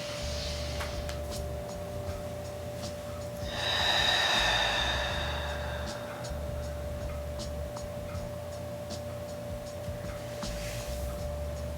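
A deep inhale during a yoga breathing exercise swells for about two seconds in the middle, airy and close, over a steady low background hum with faint ticking and no speech.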